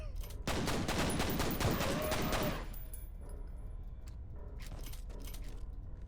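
Multi-rocket launcher in a video game firing rockets in rapid sequence, a loud dense burst of blasts lasting about two seconds before dropping to a quieter rumble with faint scattered clicks.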